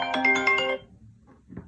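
An incoming phone call rings out close and loud, a bright repeating melodic ringtone pulsing for under a second before cutting off into low room noise.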